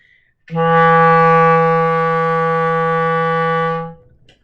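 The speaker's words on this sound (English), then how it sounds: "An F sharp sounds like this." A clarinet holds a single steady F sharp for about three and a half seconds, clear and close with a smooth onset and clean release, alone without talk.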